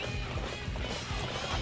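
Rapid hoofbeats of a horse galloping across the ground in the Dynasty Warriors 8 video game, a steady drumming rhythm at close range over a dense, noisy battlefield din.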